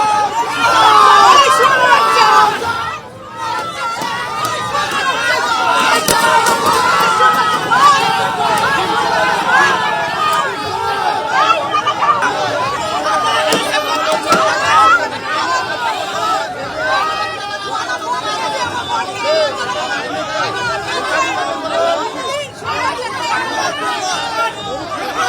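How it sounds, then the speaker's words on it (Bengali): A crowd outside a police station shouting slogans at an arrested ex-councillor as he is led out, a loud dense hubbub of voices and calls that runs on without a break. "থানা থেকে আদালতে নিয়ে যাওয়ার সময় উঠল চোর স্লোগান, উড়ে এলো ডিম।"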